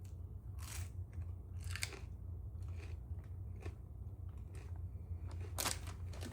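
Crisp crunching bites of raw snow peas, several irregular snaps and chews close up over a low steady background hum.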